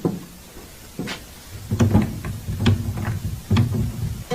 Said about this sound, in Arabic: الباب مش عايز يتفتح، مفيش فايدة